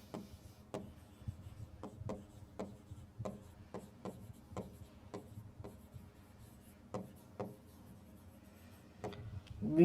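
A pen or chalk writes out a maths proof about similar triangles for a class 10 lesson, producing close, repeated short strokes and taps at an irregular rhythm with no talk over them.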